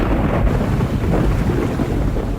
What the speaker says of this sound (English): A bracing wind heralds the approaching storms.